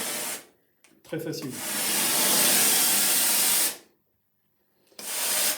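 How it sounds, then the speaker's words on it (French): Ecolux Neo steam cleaner hisses in loud, steady bursts, a short spurt, then a long blast of nearly three seconds, then another as it starts up again, with a voice speaking briefly between bursts. "Travail de la vapeur qui a l'avantage de pouvoir dégraisser, désodoriser, désinfecter tout type de support"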